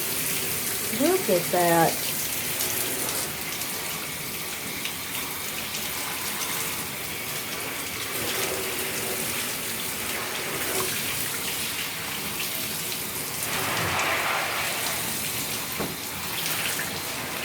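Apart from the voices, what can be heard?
water rinsing sunless spray tanner from tub down drain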